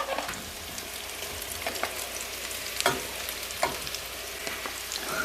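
Sausages sizzle steadily in a pan, a continuous crackling fry with occasional louder pops and spits standing out, close by and with no talking.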